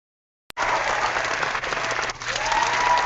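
A hand-held clapper effect unleashes a burst of crowd-style applause, starting abruptly after a sharp click and carrying on loud and steady, with a brief dip partway through before swelling again.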